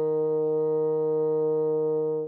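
A bassoon holds a single steady E flat played with forked fingering and the resonance key, a clean, sustained, close tone lasting about two seconds alone before it cuts off.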